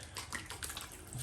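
Warm water splashing and running while shaving soap is rinsed off the face after a cut-throat razor shave, a close, steady wash of water with small splashes throughout.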